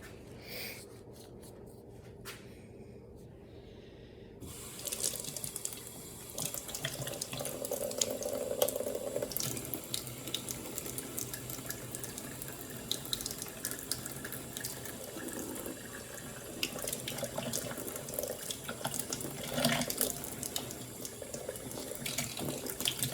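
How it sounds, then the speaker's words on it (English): Tap water runs steadily into a balloon for filling, a continuous hissing splash that starts abruptly after a few seconds and carries on loudly to the end with no talk. "Now we're gonna get our balloon and fill it with water."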